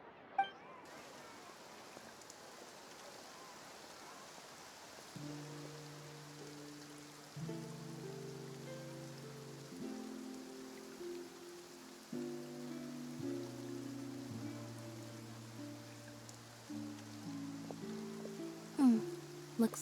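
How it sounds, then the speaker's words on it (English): Steady rain hiss falls across a Fontaine scene in Genshin Impact, a constant wash of drops beneath soft harmonic game music notes, with no one talking. "Looks like rain."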